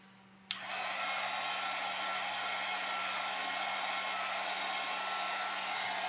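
A hair dryer drying an art journal page switches on after a brief pause and runs as a loud, steady, close whir to the end, with no talking.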